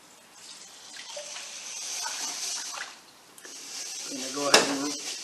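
Water rinsing sushi rice in a bowl and strainer: a running tap and swishing water, a splash as the bowl is dumped and refilled, close by, while someone talks over it.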